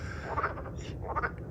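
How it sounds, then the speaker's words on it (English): Frogs croaking in a garden pond during a midsummer stroll, two distinct croaking bursts close by over a steady low outdoor background. "For those of you who have never heard frogs croak like this"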